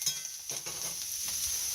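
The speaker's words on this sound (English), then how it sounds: "Let it keep sauteing in here in our pan" Brightly colored vegetables sauté in a frying pan for a breakfast frittata, a steady close sizzle with soft scraping stirs running under it, and no voices.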